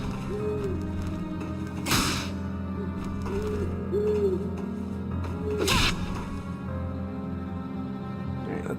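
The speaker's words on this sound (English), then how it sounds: "One nice side effect of fighting a large group of birds in a small space is that you pretty much can't swing a stick without hitting a bird." Birds attack during a fight in the video game Fragile Dreams, with hooting cries and two sharp swishing whacks from a swung stick over a droning game soundtrack.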